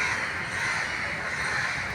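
Outdoors on a cool Delhi day, crows caw over and over, their rough calls layered and steady against a faint background of wind and other birds.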